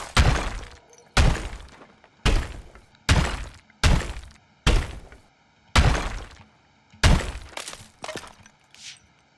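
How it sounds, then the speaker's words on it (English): Brick walls being smashed in the demolition video game Deconstruction Simulator: about ten heavy crashing impacts spaced roughly a second apart, each a loud thud with crumbling debris trailing off. "Destroy the marked brick walls."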